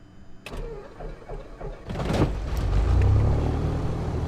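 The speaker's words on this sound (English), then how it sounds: "let me get my engine started here real quick" A single-engine aircraft starts up in Microsoft Flight Simulator X, with a few faint clicks, then a cranking catch near the two-second mark that builds into a loud, steady engine rumble running to the end.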